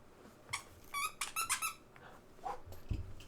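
A pet dog named Levi gives a few short, high squeaky whines in quick succession, close by and fairly faint, followed by a soft thump.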